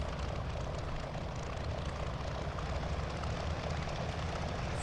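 A Curtiss P-40F Warhawk engine in Microsoft Flight Simulator runs at full RPM, a dense, steady propeller drone filling the whole stretch, loud and unbroken with no voices.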